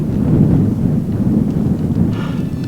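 Deep rumbling thunder from a nearby storm, a loud sustained low roll with a faint hiss of rain or wind over it.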